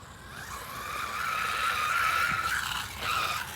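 An AM-X12 1/12 scale 4wd RC race buggy makes a whirring, skidding rush as it jumps and lands, rising and falling over a few seconds.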